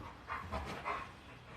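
A happy pet dog pants in short breathy bursts with faint whimpering whines, close by and fairly quiet, a few quick puffs over a moment.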